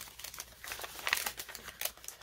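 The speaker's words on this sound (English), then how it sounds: "I'm going to tear this excess" Paper tears and crinkles close by as excess is ripped off an envelope in quick, soft bursts of crisp rustling.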